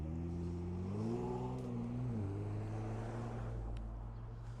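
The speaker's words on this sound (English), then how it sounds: "So many cars right now, man." Cars rolling past along a busy main street in Bradford, a steady near engine drone with a rising and falling pitch as one vehicle accelerates by, continuous traffic noise with no talking.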